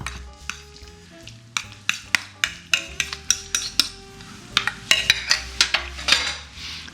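Banana bread batter being mixed with chopped nuts and bananas in a bowl, with a steady series of sharp utensil clinks and scrapes against the dish, close and fairly loud.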